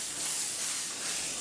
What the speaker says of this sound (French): on met pas à fond la vapeur, sinon c'est clair, ça va vous décoller le revêtement